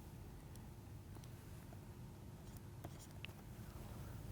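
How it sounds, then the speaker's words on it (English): Chalk or marker writing an equation on a board in a physics lecture, with faint scratchy strokes and light taps low beneath a steady background hum. "let me just write it slightly"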